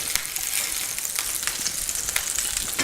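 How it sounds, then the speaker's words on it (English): Turkey cutlets sizzling loudly in a hot pan, a dense steady crackle with small pops as they are lifted out. "we're just going to pull the turkey cutlets out of the pan here and set them off to the side"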